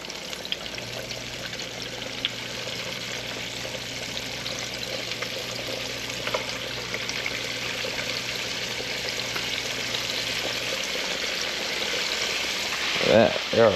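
Catfish frying in hot grease: a steady, soft sizzling hiss that runs continuously at moderate loudness, with a low hum underneath and a brief clatter near the end.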